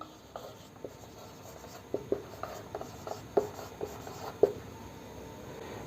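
Chalk or marker scratching and tapping on a board while a class 11 coordinate geometry equation is written out, faint and close, with irregular sharp strokes over quiet room hiss.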